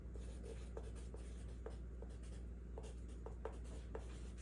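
A pen writes on a paper sewing pattern, faint soft scratches and light taps in short strokes over a low steady hum.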